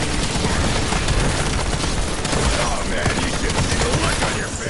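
Dense, loud gunfire from Call of Duty Black Ops 7 zombies mode, a continuous rattle of shots with booms layered throughout, filling the whole stretch with barely a pause.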